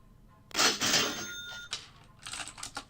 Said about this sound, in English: The cash register is for any of the Order waves.